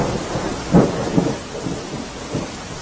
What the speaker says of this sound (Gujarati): ગ્રામ્ય વિસ્તારોમાં ધોધમાર વરસાદ પડી રહ્યો છે